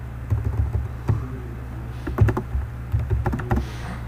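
Someone types Java code on a computer keyboard, with bursts of quick, close key clicks broken by short pauses.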